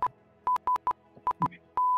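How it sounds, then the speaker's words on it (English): Electronic Morse code SOS beeps: a steady tone around 1 kHz sounding in short and long bursts with gaps between them, clear and isolated, ending on a sustained tone. "That's an SOS."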